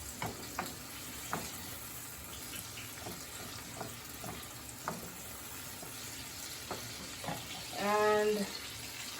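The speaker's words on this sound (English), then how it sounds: "I just want them to blanch in the oil" Green plantains fry in coconut oil with garlic, a steady close sizzle with occasional clicks of stirring and a brief bubbling burst near the end.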